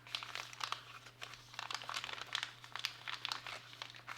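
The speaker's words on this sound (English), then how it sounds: "You fold the bag" The plastic bag of a 2019 Canadian ration pack crinkles and crackles as it is folded and pressed along its seam, a close, quiet run of irregular rustles.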